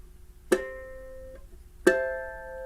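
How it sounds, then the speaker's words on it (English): Two ukulele harmonics plucked at the 12th fret, each a clear bell-like chime that rings and slowly fades, spaced about a second apart in a quiet room. "take your finger off, and you'll get those fun harmonics"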